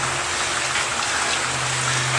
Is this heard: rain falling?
yes